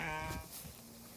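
A sheep on a farm gives a short, harmonic bleat close by, lasting under half a second before fading into quiet outdoor background.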